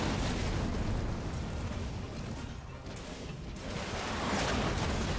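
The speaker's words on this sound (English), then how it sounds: "Satchels are kind of gonna detonate next to the Spartan." Satchel charges detonate in the Halo Wars 2 strategy game as a dense, continuous roar of blasts and rumbling, loud throughout, dipping briefly in the middle before swelling again.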